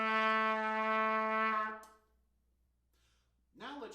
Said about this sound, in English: You also play a new low note, the note B natural, which is just your second valve.